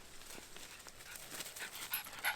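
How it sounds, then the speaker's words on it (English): A dog pants in soft, rapid breaths and lets out faint whimpers and yips nearby, in a quiet room with no talking. "I just need to go look for my dog."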